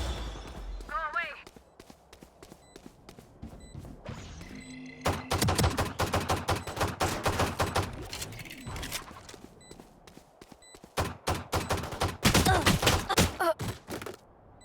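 Rapid bursts of gunfire from a gun in a video game ring out in several loud volleys, with sharp repeated shots clustered into fusillades and short pauses between them, while voices talk over the action.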